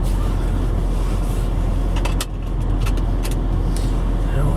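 A 2002 BMW E39 M5 with 110,348 miles drives along with a steady, loud engine drone and road rumble heard from inside the cabin, with a few faint clicks and no talk.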